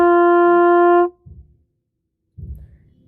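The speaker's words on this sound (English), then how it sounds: "it should sound like this on a B-flat trumpet" A single note G held on a B-flat trumpet, a bright, steady brass tone lasting about a second before cutting off, followed by a few soft handling noises and then quiet.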